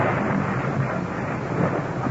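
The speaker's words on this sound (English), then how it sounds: "the city of Rome is racked by a wild electrical storm." A wild electrical storm over ancient Rome, staged as a radio-drama effect, gives a loud, dense rumble of thunder and rushing rain that fills the whole short stretch with no voices.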